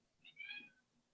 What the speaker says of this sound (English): you might be able to hear my cat